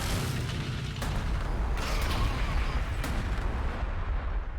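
Artillery pounding a unit in the video game Warhammer 40,000: Gladius: a loud, dense rumble of explosions with a few sharper blasts standing out, continuous, without talk.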